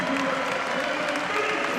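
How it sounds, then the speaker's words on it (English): A home crowd at a women's college basketball game, Akron at Bowling Green, gives a standing ovation: dense, sustained applause that fills the gym steadily, with a commentator speaking over it. "a standing ovation for the senior from Waterloo, Iowa"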